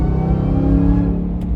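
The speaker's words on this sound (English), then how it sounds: "That blower is so damn loud." A supercharged Ram TRX pickup revs at quarter throttle, a loud close rumbling engine note with a prominent blower whine layered over it, no talk.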